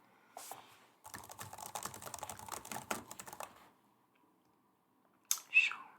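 Fingers typing fast on a computer keyboard at close range, a dense run of soft clicks lasting a few seconds, then a pause and a brief louder rustle near the end.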